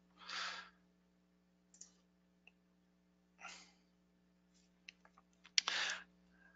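Mouse clicks while working in CRM software: a few short, sharp clicks scattered over several seconds, close and fairly quiet, with soft breathy noises between them and no speech.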